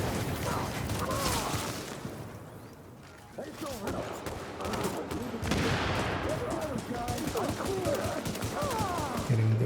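Repeated pistol shots ring out in The Division, in sharp bursts scattered among clicks and mechanical clatter, with a voice talking at times alongside the gunfire.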